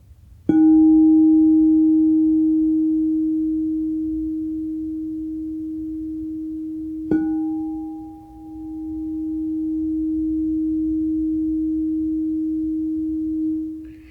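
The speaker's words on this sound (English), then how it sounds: "You can just play a little crystal bowl right there, clean out those adrenals" A 12-inch D sharp crystal singing bowl is struck twice, several seconds apart, each time producing a pure, steady ringing tone that sustains and swells softly, close and alone with no voices.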